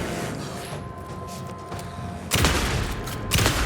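Rapid gunfire from a weapon in the video game Alan Wake 2, a dense roaring burst that starts partway through and stays loud to the end, over steady game background noise.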